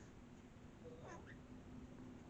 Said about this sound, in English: Oh, here comes Armani, my kitty cat